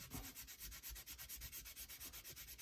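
Quick, rhythmic rubbing strokes scrub over an art journal page layered with paint and gesso, a close, dry scratching that repeats steadily for a few seconds.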